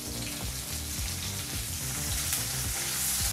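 Urad dal, chillies and curry leaves sizzle in hot oil in a pan, a loud continuous crackle with small popping spatters close up, no voices.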